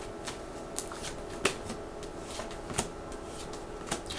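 Tarot cards being shuffled and handled during a reading, light papery flicks and taps at irregular intervals over a low steady room hum, close and quiet.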